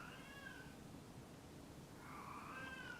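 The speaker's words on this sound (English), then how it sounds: "Oh my word, my cat is freaking out." A pet cat named Sophie meows in two drawn-out, agitated cries, one at the start and one near the end, sounding fairly close over a quiet room hum.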